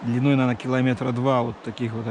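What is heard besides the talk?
None of the usual background noises is heard.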